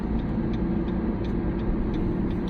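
A car cruises along a road on a monsoon road trip from Patna to Muzaffarpur, giving a steady, close engine and road rumble with faint ticking and no talk.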